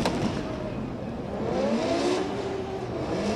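A BMW E36 and a Toyota drift car, one JZ-engined and one V8, launch off the line at a 2024 drift competition. The engines rev and climb in pitch together in a loud, continuous roar with no speech.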